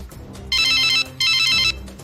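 Two bursts of a telephone ringing after a number is dialed, each about half a second long, loud and close, separated by a short gap.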